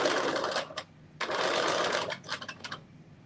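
Sewing machine stitching a 3/8-inch seam on a cropped bodice, with a back stitch at the start: two long steady bursts of rapid motor whirring, then a run of short, choppy stitches.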